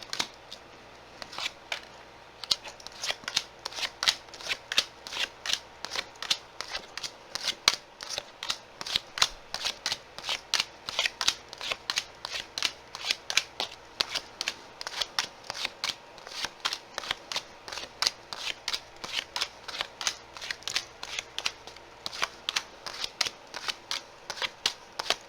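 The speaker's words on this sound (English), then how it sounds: "witness the shuffle and the laying down of the cards" Tarot cards shuffled and laid down one after another in a steady stream of crisp riffling snaps and soft slaps, close and fairly quiet, with no talking.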